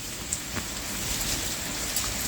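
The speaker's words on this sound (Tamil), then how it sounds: "ரொம்ப நேரமாக மழை பெஞ்சிட்டு இருக்குது" Steady rain that has been falling for a long time, a soft even hiss of drops on surfaces with occasional louder patters, faint and unbroken.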